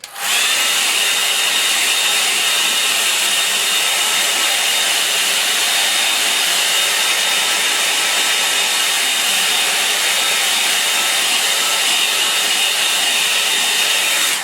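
A hair dryer blows steadily on a watercolour painting, a loud, constant whirring rush that starts suddenly and runs without a break.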